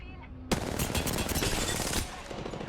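Loud, rapid gunfire in Apex Legends bursts in abruptly and keeps rattling in a dense automatic stream for about a second and a half, then fades into quieter shots and ambient game noise.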